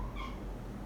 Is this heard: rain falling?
no